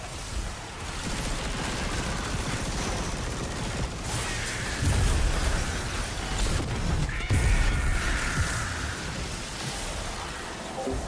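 Sustained bursts of turret gunfire in the video game Destiny, with dense repeated shots and crashing impacts running loud and continuous through the whole stretch, swelling in a few heavier bursts.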